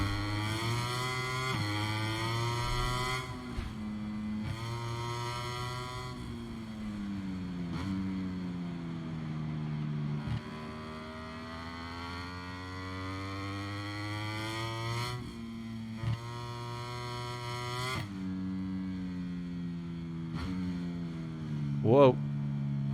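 A motorcycle engine in the MotoGP 23 racing game holds a steady, buzzing whine that rises and falls in pitch as the rider accelerates and backs off. It runs without a break for the whole stretch, ending in a brief sharp squeal.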